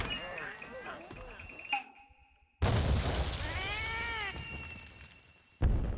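Cat meowing in the game Monster Hunter Portable 3rd, a drawn-out rising-and-falling meow amid music and game sound effects, with abrupt jumps in loudness.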